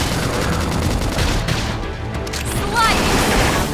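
Gunfire in the video game Xenoblade Chronicles X, a dense, continuous barrage of shots and booms running throughout amid game sound, with voices calling out over the action.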